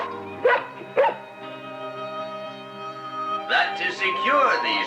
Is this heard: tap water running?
no